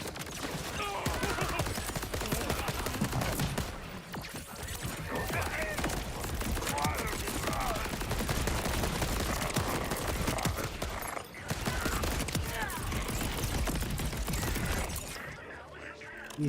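Enemy gunfire in the video game Borderlands 4, dense and continuous rattling shots with a couple of short breaks, heard at moderate loudness amid game noise.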